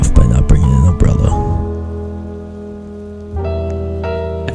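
Rain falls steadily in a video game scene, a soft continuous patter with a few brief clicks and tonal game sounds over it, loud and close throughout.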